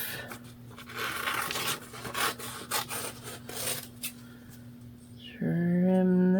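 Material is trimmed off a craft project with a rough, rasping, scraping sound in irregular strokes up close. A steady tone swells in at the end.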